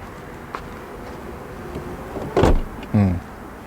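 Power tailgate on an Aston Martin DBX closing quietly: a soft motor whir rises, then a short thump and a second brief mechanical latch hum near the end, with low background noise and no talk.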